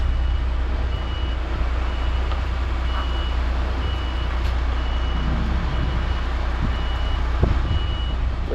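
A truck is driven around a yard with a steady engine rumble throughout, while a reversing beeper repeats at a regular pace in the background and a few faint clanks break in.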